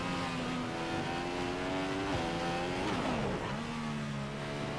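Formula 1 car in the F1 2015 racing game, engine howling steadily through a lap at the Spanish Grand Prix, pitch rising and dropping with gear shifts and braking into corners, loud and continuous with no talk.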